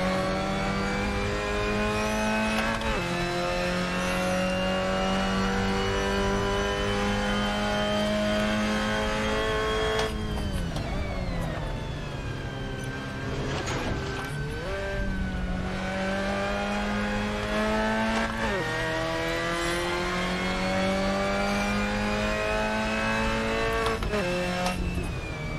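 A race car engine in the Assetto Corsa racing game screams at high revs, climbing through gears with drops at each shift and a dip when braking into a corner before accelerating again, loud and constant with no voices.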